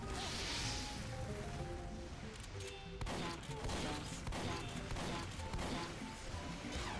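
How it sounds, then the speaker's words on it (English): Rocket launcher fire in Team Fortress 2 amid dense game combat, with repeated blasts, whooshes and crashes in a loud continuous wash of gunfire and explosions. "Shoot a rocket."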